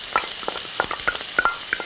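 Chilli, garlic and thyme fry in a hot pan, a continuous bright sizzle broken by regular clinks and scrapes as a utensil stirs them, close up and with no voices.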